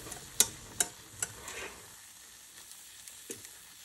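A whisk clicks and scrapes against a pan as flour is stirred over low heat, with a soft ongoing sizzle and a few sharp, evenly spaced taps that fade into quieter stirring.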